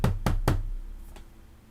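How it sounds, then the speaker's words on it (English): Three sharp, evenly spaced knocks on a door ring out close and loud in quick succession, then fade into a quiet room with a faint fourth tap. "you hear a knock at the door"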